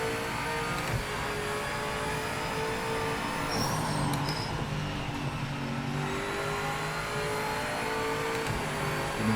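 A BMW GTE race car in Project Motor Racing at Spa-Francorchamps drones at steady high revs throughout, its sustained engine tone loud and continuous with no pauses.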